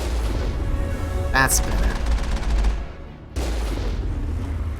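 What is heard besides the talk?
Mako secondary cannon firing in Mass Effect video game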